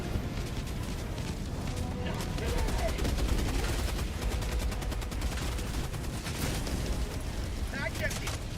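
Sustained automatic gunfire from a sci-fi shooter video game, rapid dense bursts firing continuously until the magazine runs dry, loud and close with a voice speaking over the clatter.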